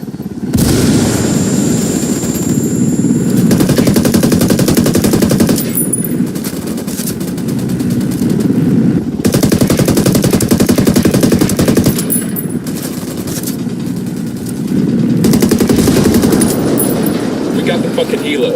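Ghost Recon Wildlands firefight: loud, sustained machine-gun bursts and booming shots with explosions, heavy and close throughout, while voices call out over the din.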